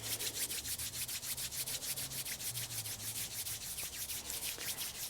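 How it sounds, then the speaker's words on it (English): Palms of the hands rubbed briskly together in a quiet room, a rhythmic swishing friction with roughly five strokes per second, close to the listener and without talk. "And then start to rub the palms of the hands."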